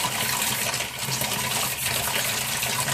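Water swished around in a container while rinsing the side skirts and plastic parts of a radio-controlled truggy, a steady close sloshing rush with no talk.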